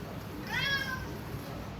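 A cat meows once during a Hindi stage performance of Ionesco's The Lesson, a short, faint, rising-and-falling mew heard over a hushed room.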